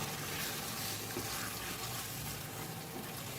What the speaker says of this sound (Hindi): थोड़ा सा पानी डालूंगी तब इसकी ग्रेवी बन जाए